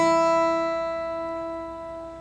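High E string of a guitar plucked for tuning, a single bright note that rings alone and gradually decays.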